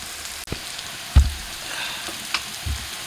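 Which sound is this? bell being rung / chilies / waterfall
chilies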